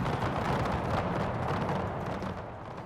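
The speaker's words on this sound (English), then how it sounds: "It's the artillery firing it now." Artillery fire rumbles in the Napoleon: Total War Era mod battle, a dense, sustained roar of distant cannon booms blending into one heavy wash with no voices over it.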